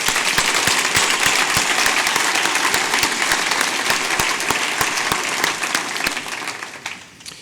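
An audience applauds to congratulate entrepreneurs at a breakfast forum, dense sustained clapping from a full room that holds steady and then tapers off over the last second.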